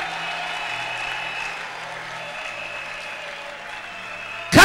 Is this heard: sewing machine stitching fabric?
no